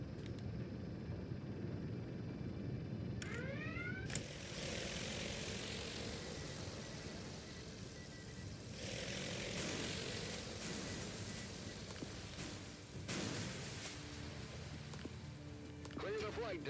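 Aircraft carrier planes in a video game start their engines, a steady propeller-engine drone and hiss that holds throughout at moderate loudness, with brief whining swells and clunks layered on top.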